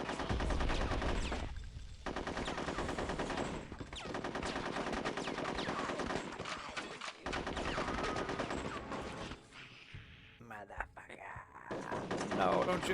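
Sustained bursts of video game gunfire in Conker's Bad Fur Day, loud and continuous with rapid automatic shots, mixed with game music and effects throughout, briefly thinning near the end.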